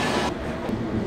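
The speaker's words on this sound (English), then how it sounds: "At the train station now, as you can see, a lot of noise" Steady rumbling clatter of a train passing through a busy station, a dense continuous roar with no voices.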